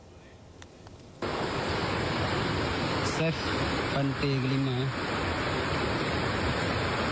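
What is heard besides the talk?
rushing flood water of a new river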